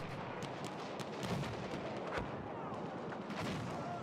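Mortar and gunfire in the video game Hell Let Loose, a dense, continuous roar of distant booms and crackling shots with repeated sharper impacts, heard alone without talk.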